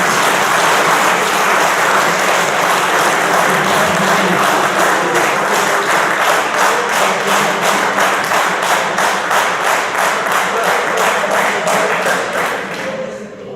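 An audience at a political speech breaks into sustained applause, loud and close, thick clapping that settles into a faster rhythmic beat before tapering off at the end.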